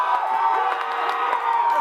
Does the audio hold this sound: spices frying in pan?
no